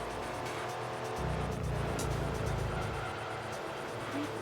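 Mercury road car from Gran Turismo 2 lugging its engine at low revs, a steady droning rumble with a deeper, heavier bog surge in the middle, continuous and fairly close.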